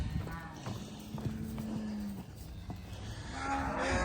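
Cattle being worked and sorted into a pen: a cow gives a couple of drawn-out moos, close by, over shuffling hoof clatter and light farmyard noise.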